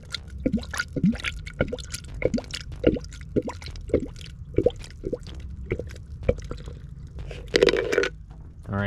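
Antifreeze coolant pours from the opened radiator drain plug of a 1998 Mitsubishi Eclipse with an overheating problem, a steady run of close, wet drips and splashes landing in rapid succession, with a louder gush near the end.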